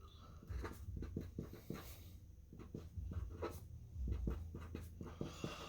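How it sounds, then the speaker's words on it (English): Pencil scratching numbers onto paper in quick, short strokes, close and quiet, with small pauses between the digits. "So I'm going to write that down so I don't forget any numbers."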